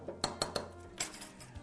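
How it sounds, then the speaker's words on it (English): A spoon stirs a chia seed mixture in a bowl, giving about four sharp, close clinks against the side, with a quieter scrape between them and no voices. "Just give that an extra mix and let that sit just a moment"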